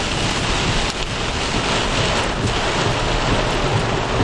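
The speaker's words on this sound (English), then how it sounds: "we've got dime-sized hail coming down and over us right now" Dime-sized hail pours down during a storm as a dense, loud, continuous hissing clatter with no letup throughout.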